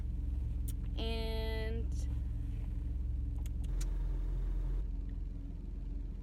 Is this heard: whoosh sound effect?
no